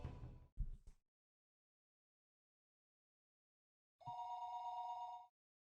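Late-night telephone ringing in the Higurashi: When They Cry game, one clear electronic ring burst after a few short knocks and a long silence, crisp and up close.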